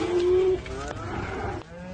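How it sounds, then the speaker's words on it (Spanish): A cow in a stable lets out a single close, loud moo that holds steady and then drops in pitch. It belongs to a herd of cloned cows, and it stands alone with no talking. "En este establo hay un rebaño de vacas que la evolución nunca habría podido crear."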